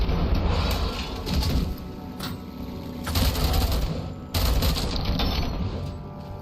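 Robocop Rogue City gunfire as the player aims, rapid mechanical bursts of automatic shots with clanking, sustained rattling and short pauses between volleys.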